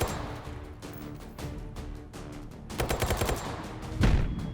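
Video game grenade blast amid ongoing gunfire: a steady run of sharp rapid shots, then a louder burst of crackling impacts near the end with a heavy, beefy detonation close by.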